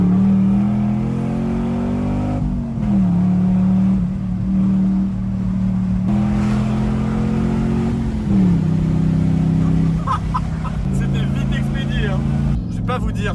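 A Chevrolet Camaro V8 accelerating hard, its loud engine note climbing through repeated gear changes with drops in pitch between shifts, with people talking over the engine.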